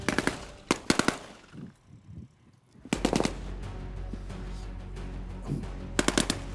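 Gunfire rings out during a re-enactment of the 1991 Operation Granby Gulf War tank battle involving a T-54 tank. Sharp shots and short automatic bursts open and close the passage, with a steady low rumble between them.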